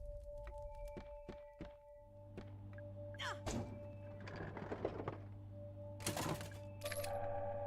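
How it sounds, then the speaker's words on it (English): A vending machine in the survival horror game Crow Country dispenses ammo: a series of sharp mechanical thunks and clicks, then tonal electronic chimes and a rattling drop, fairly close and clear. "The vending machines is a really smart idea to be able to make sure that you get a little bit of ammo"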